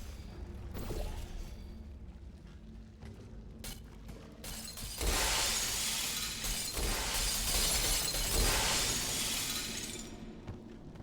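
Glass shattering in the Portal 2 video game, a loud sustained crash of breaking panes with a whooshing spray of shards that swells midway and keeps clattering, alone without talk.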